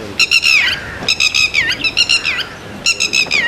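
A red-wattled lapwing calls loudly overhead in Palaly, Jaffna, repeating bursts of shrill, piercing notes in several quick phrases with short pauses between them.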